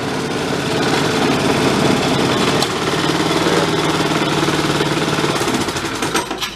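A small engine on a trashed, engine-powered wagon runs steadily with a rapid buzzing clatter, close and loud, wavering slightly toward the end.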